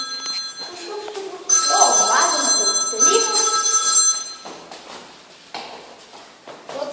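A telephone rings loudly and close by in a steady trilling burst lasting a few seconds, with a person speaking around it.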